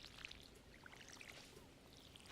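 In the Stardew Valley farming game, a watering can sprinkles freshly planted seeds, a soft, brief trickling pour with faint sparkly chimes over quiet game ambience.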